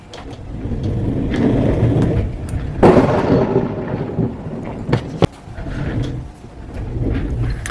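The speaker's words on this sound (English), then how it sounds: "As you can see, it's lightning and thunder." Thunder rumbles low and heavy through an afternoon thunderstorm, swelling into a sharp crack near the three-second mark. Sharp knocks follow and light rain patters throughout, with no voices.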